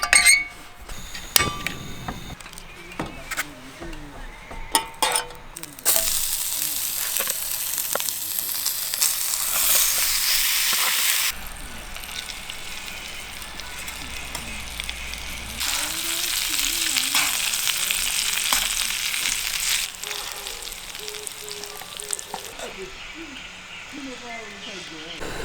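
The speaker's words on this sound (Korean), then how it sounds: "이 훈제 오리 고기만 좀 데워가지고 바로 먹으면 될 것 같습니다" Smoked duck meat sizzles as it warms in a bowl used in place of a frying pan at a forest campsite, a steady frying hiss swelling and easing in long stretches, with brief voices early on.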